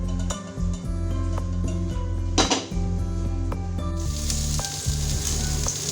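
Oil sizzles and fries loudly in a pan on the stove while it heats for cooking chicken seekh kebabs, with a steady crackle throughout and occasional clinks of metal utensils against the cookware.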